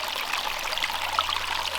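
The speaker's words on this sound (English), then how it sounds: "you guys see this little brook?" A small brook flows steadily, a continuous close-up rush and trickle of water with no voices over it.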